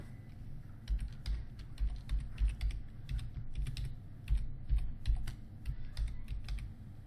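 Rapid typing on a computer keyboard, a close, moderately loud run of uneven clicks with brief pauses between bursts, no voices.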